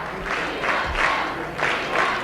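Election-night crowd at a 1986 campaign rally cheering and clapping for their candidate, swelling in several loud waves of applause and shouts over about two seconds, with a continuous roar of many voices underneath.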